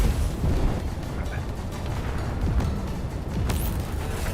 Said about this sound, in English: Boom, second big explosion.